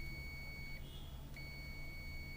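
A multimeter in continuity mode beeps while probing an inverter's heat-sink thermistor wire, a steady high tone that briefly shifts pitch mid-way, faint against a constant low hum.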